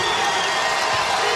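Arena crowd at a West Virginia Mountaineers basketball game cheers steadily after a made basket, a dense, continuous roar of voices held at an even level throughout.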